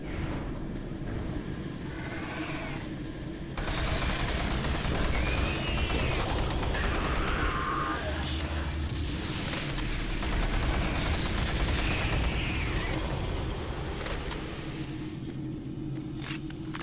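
Shotgun blasts and game combat in Doom 3, dense repeated booming shots and clatter mixed with steady engine-like drone, loud and continuous with no talk.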